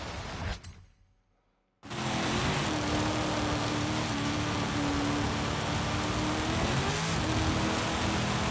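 A car engine in Forza Horizon 5 cuts out briefly, then comes back with a loud, sustained rev that rises and falls during an offroad drive. Road and tyre noise sit beneath the engine, and there is no talk.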